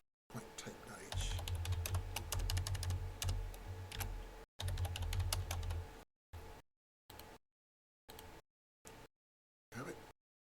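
Rapid keystrokes on a computer keyboard while C++ code is entered, a dense steady run of clicks for several seconds, then short separate bursts of typing with silent pauses between them.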